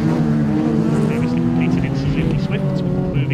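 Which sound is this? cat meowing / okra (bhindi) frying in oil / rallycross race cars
rallycross race cars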